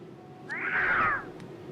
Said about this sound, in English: Darn cat.